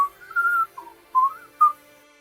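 A person whistles casually in short, separate melodic phrases, four brief bright tones with gaps between them, clear and close with no talking.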